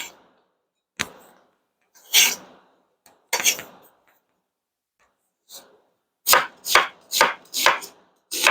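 A knife slices through ingredients for Hawaii-style corned beef and cabbage at about 1/8 inch thickness, sounding first as a few isolated cuts and then as a quick run of five or six crisp chops on a board, near and fairly loud, with no talk.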